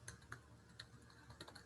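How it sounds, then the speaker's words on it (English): Soft clicking keystrokes on a computer keyboard in uneven bursts, very quiet and close, with no talk. "Excuse my typing, my fingers are still cold"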